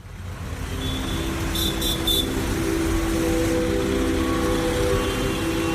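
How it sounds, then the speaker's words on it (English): Steady street traffic in downtown Dakar, Senegal, a constant loud engine rumble and road roar with a few faint distant horn toots early on. "Downtown Dakar is a noisy place. Senegal's capital has the kind of traffic that sneaks up on you"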